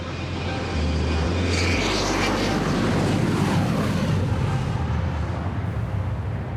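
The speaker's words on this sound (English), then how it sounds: "how do you manage the flow of aircraft when there is a takeoff or landing happening" An airliner taking off or landing at Atlanta's busy airport: a steady, loud jet-engine roar with a deep rumble, sustained throughout at close to middle distance, without speech.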